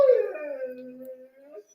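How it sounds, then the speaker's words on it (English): Shadow, a needy dog, lets out a single close whimpering howl that starts high, trails off into a long whine and ends with a short yip. "I told y'all he's a needy dog."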